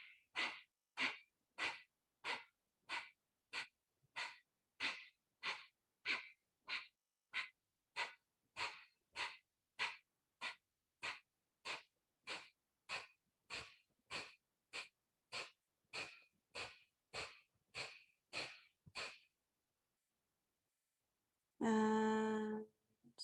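Rhythmic yoga breathing in a guided session: about two dozen sharp, evenly spaced breaths at roughly one per second, close and clear. After a short pause comes one longer, voiced breath.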